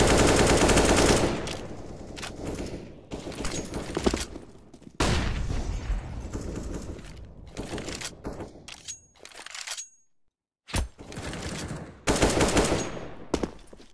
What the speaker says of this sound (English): I love these wall bangs in middle.